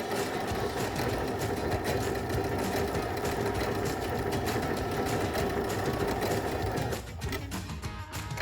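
A Baby Lock Brilliant sewing machine runs an overcast stitch with a dense, fast, continuous mechanical whir and rattle that is loud and close, then slows and stops near the end.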